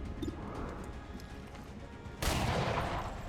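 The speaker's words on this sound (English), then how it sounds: "Our shots are landing right now." Soldiers firing in the turn-based video game XCOM 2: steady crackling gunfire throughout, swelling into a louder burst partway through, with no talking.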